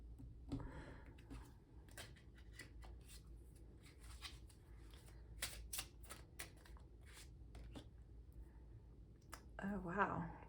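Tarot cards being shuffled in a pick-a-card reading, a steady papery riffling and soft card flicks running throughout, fairly faint, with occasional talk.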